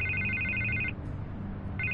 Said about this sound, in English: I can't get the phone to stop ringing